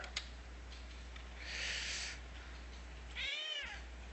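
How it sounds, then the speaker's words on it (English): A very old cat, around twenty years, gives two drawn-out meows, the second rising and falling clearly, over a faint steady background hum in a quiet room. "Ah, this is my old cat."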